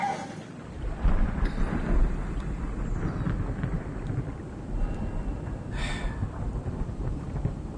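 Thunder rumbling deep underwater in the game SOMA, a continuous low, heavy roll with noisy crackle and a faint rain-like hiss, loud and sustained throughout.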